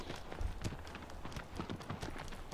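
Hoofbeats of a horse in Shadow of the Colossus sound as a steady run of clip-clop steps at close range, loud and even across the whole stretch, with no talking over them.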